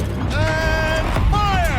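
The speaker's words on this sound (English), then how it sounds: "Rotate turret!" A mechanical turret rotating in Horizon Zero Dawn, with a creaking, whining servo tone that rises and sweeps twice over a low rumbling background.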